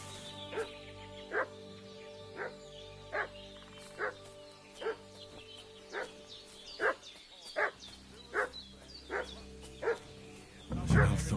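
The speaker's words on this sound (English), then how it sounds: "What's that dog making such a fuss about?" A dog in Kingdom Come Deliverance 2 barks repeatedly at a steady, regular pace, each bark distinct and moderately near, above a quiet ambient game background.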